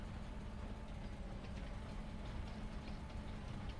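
A train rolls steadily in a railway simulation game, producing a continuous low rumble with faint rhythmic clatter, fairly quiet and unbroken, with no talk over it.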